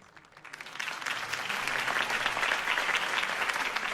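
A crowd applauds inside a Batman video game after a campaign speech for Harvey Dent, a dense, steady wash of clapping that swells within the first half second and holds loud and even throughout.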